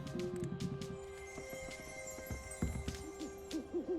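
Owls hoot in a Hogwarts Legacy game scene, a few soft wavering calls repeating in short bursts from moderate distance over a steady ambient hum, with louder hoots near the end.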